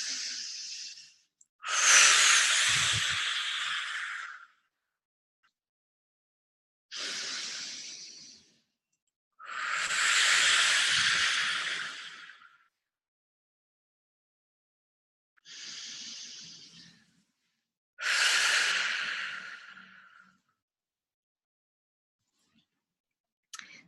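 Deep breaths in a guided breathing exercise, about six long loud bursts of airflow separated by silences, close and unaccompanied.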